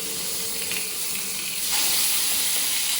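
Rabbit pieces fry in oil scented with rosemary and garlic over a raised flame, giving a steady loud sizzle that swells louder partway through.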